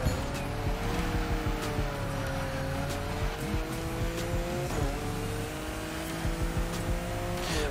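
Car driving and racing in The Crew Motorfest video game, a steady engine drone with shifting pitch and tire noise, loud and continuous throughout.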